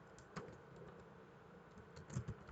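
Code typed on a computer keyboard in PyCharm, soft scattered keystrokes at a close, quiet level with a few louder clustered taps near the end.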